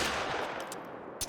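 Rapid shots from a Rolleston .45 handgun in the hunting game theHunter: Call of the Wild, a dense burst of loud reports filling the short span with a final sharp crack.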